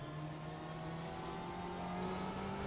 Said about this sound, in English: Sounds really nice from the Porsche and also from the BMW.